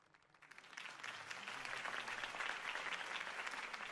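An audience breaks into applause after a campaign speech, the clapping swelling quickly from quiet to a dense, sustained roar of many hands that holds steady to the end.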